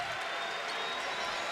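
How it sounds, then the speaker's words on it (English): A home crowd at a college basketball game in Georgia Tech's arena roars and applauds, a steady dense wash of cheering with no single voice standing out. "And the crowd is back in it for the first time this afternoon."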